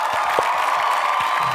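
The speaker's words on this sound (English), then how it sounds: "Give applause for Wulandari." Students in a classroom clap for a classmate, a brief, fairly close burst of scattered handclaps over a steady background hiss.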